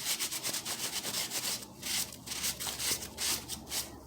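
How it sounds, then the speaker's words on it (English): Steady rubbing and scraping of excess paper clay off a moulded Christmas ornament, close up, in repeated strokes with a dry, sandy texture and no talking. "So you just rub the excess off, and you just keep rubbing"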